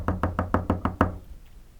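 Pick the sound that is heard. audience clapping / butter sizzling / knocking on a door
knocking on a door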